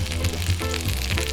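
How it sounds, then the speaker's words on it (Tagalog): Milkfish (bangus) intestines sauté in a hot pan, giving a loud, close, continuous sizzle with faint stirring underneath and no talk. "At igigisa."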